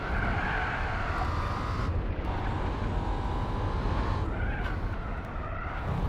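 Race car engine droning steadily at high revs on the Laguna Seca circuit in Gran Turismo 4, with tire skidding under braking as the rear oversteers; loud, continuous and close, with no talk.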